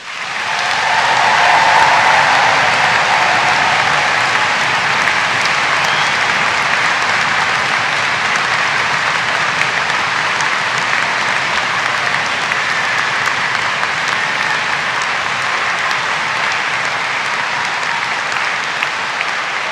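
Graduates applaud themselves at a University of Dundee summer graduation ceremony. The large hall gives a dense, loud, steady wash of clapping that holds for about twenty seconds with only a slight fade.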